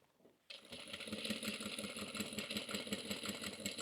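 A sewing machine runs a steady, rapid stitch along the lining seam of a roomy tote bag, starting abruptly after a quiet moment and continuing at an even pace with a clattering rhythm.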